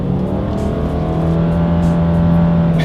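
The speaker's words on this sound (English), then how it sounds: "let's go ahead and do a quick little acceleration here, and let's see how quickly we can get the new 2020 Subaru Forester here up to speed" A 2020 Subaru Forester accelerating: a loud, steady engine drone heard from inside the cabin, climbing gradually in pitch under continuous road and wind noise, with no talking.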